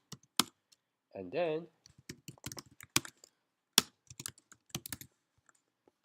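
Keyboard keys clicking in scattered bursts as code is typed during a programming lab, near and fairly crisp, with a short spoken remark in the middle.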